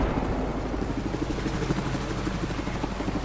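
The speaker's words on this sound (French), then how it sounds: "il y a l'hélico qui les sort directement" Helicopter in a multiplayer shooter video game, lifting players off rooftops, giving a steady, loud, close rotor thrum with continuous chopping throughout.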